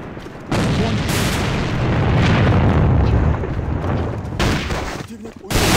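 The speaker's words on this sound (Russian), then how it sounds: "Бросаю гранату!" A grenade explodes amid gunfire in a video game, filling the space with a loud, dense roar that runs for several seconds, briefly dips, then surges back.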